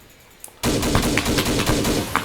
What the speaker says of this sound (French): Tire lourd à gauche, tire lourd à gauche.